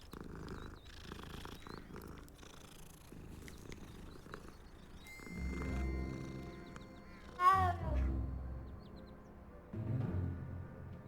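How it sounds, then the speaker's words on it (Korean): A cat in the Hogwarts Legacy video game meows once in a rising, wavering call, surrounded by a quiet game soundtrack, soft purring rumbles and faint background tones. "뭐야 고양이"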